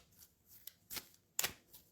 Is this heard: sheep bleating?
no